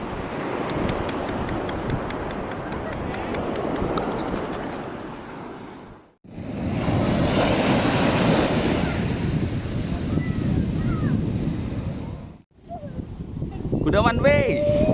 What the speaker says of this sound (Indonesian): Harus hati-hati nih, ombaknya lumayan besar